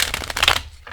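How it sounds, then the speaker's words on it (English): A mini tarot card deck being shuffled, a quick close riffle of papery flutters and snaps lasting under a second. "Mini tarot decks have such a cute sizing. They're so easy to shuffle."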